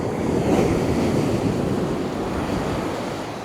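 Strong wind roars steadily across a Perth beach, mixed with the wash of surf, loud and unbroken, no voices.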